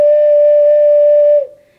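A six-hole ocarina holds one clear D note, a pure sustained flute-like tone played close and loud for about a second and a half before stopping.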